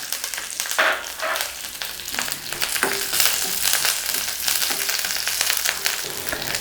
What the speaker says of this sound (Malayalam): എണ്ണ നന്നായി ചൂടായി വരുമ്പോഴത്തേക്ക് ഇതിലോട്ട് നമുക്ക് ഉള്ളി ഇട്ട് കൊടുത്ത് ഇതിലോട്ട് കറിവേപ്പിലയും കൂടെ നമുക്ക് ഇട്ട് കൊടുക്കാം